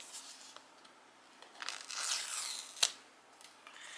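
Close, quiet ripping and crinkling as the paper seal sticker is peeled off an iPhone 15 Pro box, a drawn-out tearing swell with a sharp snap partway through and soft rustles after.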